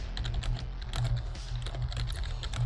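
Continuous rapid typing on a computer keyboard, dense clicking keystrokes at close range with a low steady hum underneath.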